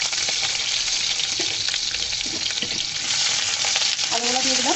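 Potatoes hit hot oil in a pan for a chicken curry with potatoes and pointed gourd, giving a loud, steady crackling sizzle that runs throughout, with light stirring scrapes and clinks near the end.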